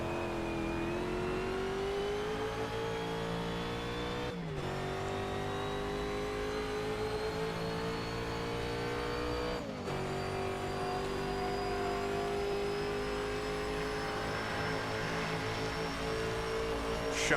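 A historic Daytona sports car engine howls steadily at high revs in an online racing game, a loud continuous drone that dips briefly twice at gear shifts before climbing again.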